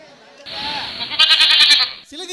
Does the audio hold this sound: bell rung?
no